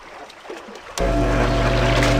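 A boat vehicle in the video game Amerzone starts up abruptly after a quiet moment, becoming a loud, steady, dense rush of engine and water noise that holds without a break.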